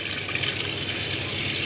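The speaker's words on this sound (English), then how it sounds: "if we lift a handle up, notice we get water" Water runs steadily from a caravan tap in a Chausson Flash 515 motorhome, a constant close hiss of flow into the sink with no talking.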